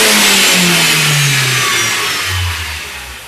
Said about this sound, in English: So I'm going to ask Dave now to conduct a full wide open throttle test